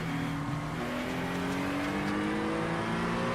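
GT3 race cars at Daytona in a racing video game replay, engines revving with steadily rising pitch as cars accelerate together, a loud continuous multi-car whine with no voices.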